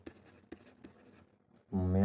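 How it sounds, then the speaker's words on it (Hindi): A teacher writes an English example sentence on a board in a classroom: a few sharp, separate marker or chalk taps and strokes, faint and close, before a voice begins speaking at the end. "मैं लिख के बताता हूँ इस क्वेश्चन को"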